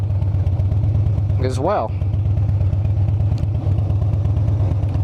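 Air-cooled motorcycle engine thrums steadily and loudly while riding, a continuous low rumble with a brief voice over it.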